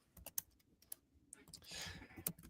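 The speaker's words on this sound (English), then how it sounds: "I see you typing away over there." Keys tapped on a computer keyboard as someone types into a chat during an online round-table call, sparse scattered clicks then a brief rustling swell, faint and close with no one speaking.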